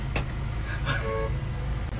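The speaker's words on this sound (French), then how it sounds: "Il y a un monsieur devant qu'on klaxonne pour le doubler, mais il réagit pas." A car horn toots behind a driver stalled at a light who is not reacting, a short honk and a brief second one heard faintly from inside a car over steady low road and engine rumble.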